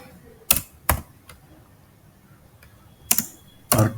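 A few scattered computer keyboard keystrokes while Python code is entered, heard as isolated sharp clicks and short bursts with quiet gaps between them.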